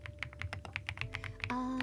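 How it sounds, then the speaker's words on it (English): Close-up typing on a thocky Marshmallow mechanical keyboard: a quick, steady run of deep, rounded keystrokes, with a faint background tone joining near the end. "Right now the microphone is facing towards the keyboard to pick up the sounds of the keyboard"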